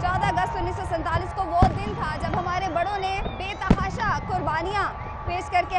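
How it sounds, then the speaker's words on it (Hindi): Midnight fireworks on Pakistan's Independence Day in a city, with sharp bangs and crackles popping out of a dense festive crowd din while someone narrates steadily over it. "ठीक 12 बजे ये आतिशबाजी का मुजाहिरा जो था वो शुरू हो चुका है"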